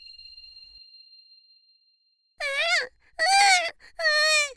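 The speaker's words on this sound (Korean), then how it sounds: "애기 소리?" A baby's wailing cry drifts in from the neighboring house in three sustained, rising-and-falling bursts with short breaths between, preceded by a faint steady electronic tone.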